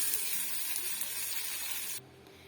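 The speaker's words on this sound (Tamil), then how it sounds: "இப்ப நம்ம அரைச்சி எடுத்துட்டு வந்திருக்க சட்னியோட இந்த தாளிப்பை சேர்த்துடலாம்." A curry leaf tempering sizzles hard as it is added to coconut chutney, a loud steady crackling fry that holds for about two seconds and then cuts off abruptly, leaving quiet background.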